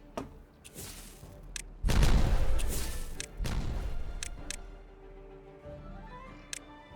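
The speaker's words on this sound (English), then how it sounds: "I'm just gonna keep exploding stuff" Explosions in the beaver colony-building game Timberborn go off in several booming blasts with sharp cracks between them, moderately loud and spaced across a few seconds.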